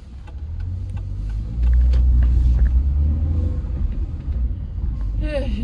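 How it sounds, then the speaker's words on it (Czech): Heavy road traffic streams past with a steady low rumble of car engines that swells louder partway through, continuous and fairly close, with a brief higher squeal near the end. "dneska tady provoz jak na Václavou"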